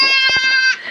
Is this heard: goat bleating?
yes